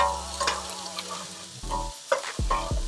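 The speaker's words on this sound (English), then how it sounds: "I'm gonna add the onions and the whites of the spring onions" Onions and the white parts of spring onions frying in oil for roast pork fried rice, a close sizzle broken by several clattering stirring scrapes at uneven intervals, with no talking.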